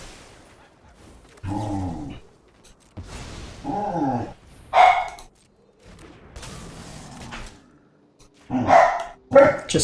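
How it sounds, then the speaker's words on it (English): Dogs at home bark in loud, separate bursts, some deep and some sharper and yelping, spaced with quiet gaps and close to the listener. "The dogs are acting up."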